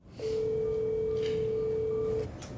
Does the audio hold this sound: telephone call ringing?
yes